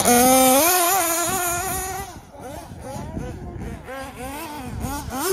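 Kyosho nitro RC car engine screaming at high revs, pitch climbing and wavering through several throttle blips, loud and close at first, then dropping off before revving again.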